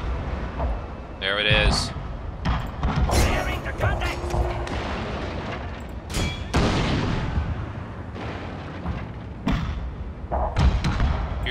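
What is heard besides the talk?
rapid musket and cannon fire in Total War: Shogun 2 video game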